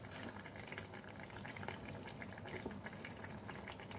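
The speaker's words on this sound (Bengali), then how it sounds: "দেখো বেশ ভালো করে ফুটছে" Rice-flour marich jhol with vegetables bubbling steadily in a pot, a dense continuous simmering hiss with faint popping, close and even, with no voices.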